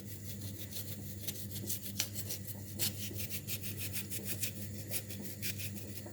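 Knife slicing white radish thinly on a board for a salad garnish, a steady run of quick rasping strokes, close and fairly quiet, with no talk over it.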